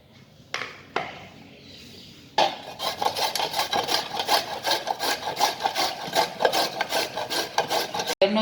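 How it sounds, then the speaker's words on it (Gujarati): Peeled carrots, about a kilo, rasped against a grater for gajar halwa: a few isolated scrapes, then a steady run of rapid rhythmic grating strokes, close and fairly loud, with no talking. "મેં 1 કિલો ગાજર લીધા છે, એને ધોઈને છોલી લીધા છે। હવે આપણે એને છીણી લઈએ।"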